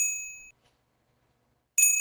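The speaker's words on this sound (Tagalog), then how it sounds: "Yung bell niya" A bell gift chime in a BIGO live stream, a bright ringing ding that fades out, then a gap of silence before a second ding starts loudly.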